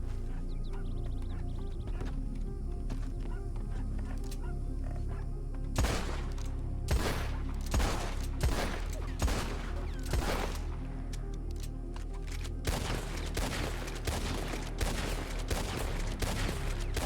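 Rapid gunfire from a Red Dead Redemption 2 roleplay game, several sharp shots cracking in clusters over a steady low background hum, with pauses between volleys.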